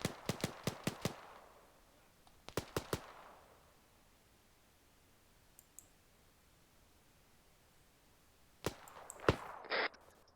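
Rapid bursts of video-game gunfire crack out in short volleys, one cluster of about five shots, a quicker triple, then a final spray of shots near the end, with quiet stretches between.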